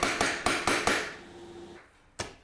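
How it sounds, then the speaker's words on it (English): Hammer blows drive wooden nails into the sideboards of a handmade wooden chest: five sharp, ringing strikes in quick succession, a pause, then two more hits, close and loud. "He drills holes into the sideboards and drives in the wooden nails"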